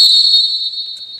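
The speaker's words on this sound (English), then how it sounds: "you blow your whistle with your hand open" A referee's whistle blows one sustained, shrill blast lasting over a second, loud and close, with no talking over it.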